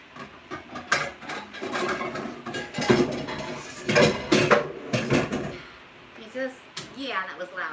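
A cooking pot clanks and bangs as it is handled and set down in a kitchen, a series of loud metallic knocks and scrapes close by, with a person talking in between.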